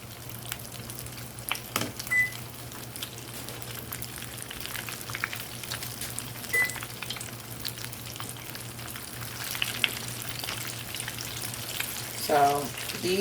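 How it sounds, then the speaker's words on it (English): Stuffed banana peppers filled with crabmeat fry in hot grease, giving a steady crackling sizzle with a low constant hum beneath and a few louder pops near the end. "I like to let it sit in the grease for a little bit before I go flipping them"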